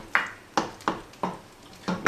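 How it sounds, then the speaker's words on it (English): Metal pot lid on a pot of simmering apples for applesauce, giving a series of light clinks and taps as it is set back in place, about five short strikes, close and clear. "Now I'm going to put the lid back on"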